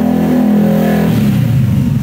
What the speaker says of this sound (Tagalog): Ang ingay ng motor.